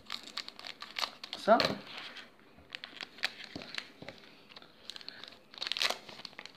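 Tearing and crinkling foil wrapper of a Pokémon booster pack being opened by hand, close and crisp, in irregular bursts of rustling and ripping, with a brief spoken word mixed in.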